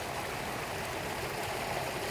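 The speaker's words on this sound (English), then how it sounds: "just listen to this beautiful creek" Flowing creek, a steady broad rush of running water with no distinct splashes, continuous and fairly close, with no voices over it.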